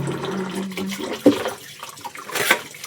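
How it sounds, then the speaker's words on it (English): Dishes being washed under running tap water in a Kenyan home, a short close burst of splashing water with a sharp clink around the middle and another brief splash near the end. "As we wash up."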